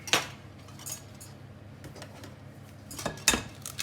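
Eggs being picked up and cracked against a bowl while making a far aux pruneaux: a few sharp clinks and taps near the start and end, with quieter handling in between, close up and without talking.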